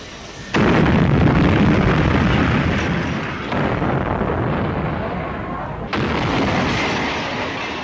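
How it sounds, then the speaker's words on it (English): Heavy blasts from IRA bombs going off in central Belfast, a loud sustained roar of explosions and rumbling with sharp renewed bursts, dense and close throughout. "In July, 20 IRA bombs exploded in central Belfast"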